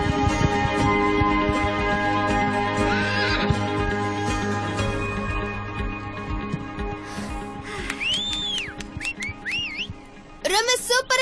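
A horse whinnies with rising and falling calls, layered over a busy animated soundtrack of music and sound effects, ending in a sharp burst of neighing.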